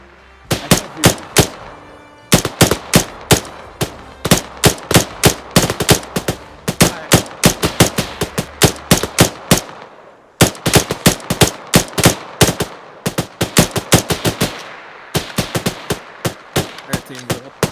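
Close, loud gunfire during a team bounding training drill, sharp single shots and quick clusters of rounds cracking in uneven rhythm, with brief pauses between strings of fire.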